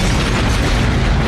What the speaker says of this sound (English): you can tell that was some small ass explosion